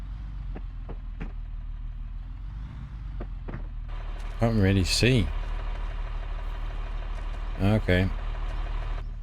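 A tractor in Farming Simulator 25 idles and drives with a steady low engine drone and a few light clicks, while a voice speaks briefly over it twice.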